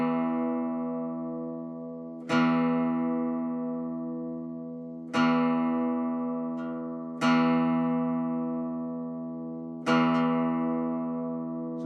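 Twelve-string guitar with its paired E strings slightly detuned from each other, plucked four times at steady intervals, each note ringing out and fading with a slow wavering shimmer, close and clear.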